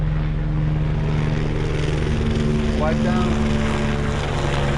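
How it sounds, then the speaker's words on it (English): A police helicopter flying past overhead, a steady loud droning rotor and engine hum with tonal whine filling the whole stretch, with a brief spoken remark over it. "that's like the 4th time that freaking chopper passes"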